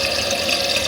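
Water rushes steadily into a toilet cistern through a newly fitted fill valve, a continuous hissing, splashing fill that stays close and even throughout.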